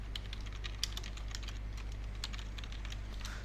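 Fingers tap rapidly on a computer keyboard while HTML code is typed, a close, even stream of light clicks over a steady low hum, with no talking.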